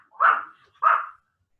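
A dog gives two short, mid-pitched barks about half a second apart, fairly close and distinct, with silence around them.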